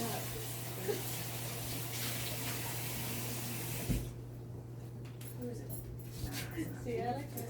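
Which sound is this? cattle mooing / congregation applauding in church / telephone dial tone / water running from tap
water running from tap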